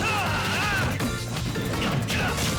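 In Super Smash Bros. Ultimate, Ike's charged smash attack lands as a heavy crash and thwack, loud and brief, over continuous game noise and crowd, with commentary running beneath.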